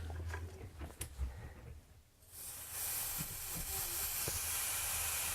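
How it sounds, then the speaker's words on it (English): A hot soldered copper pipe fitting is quenched, giving a sudden loud, sustained steaming hiss that starts partway through after quieter handling noises and holds steady to the end. "All I got to do now is just quench the fitting."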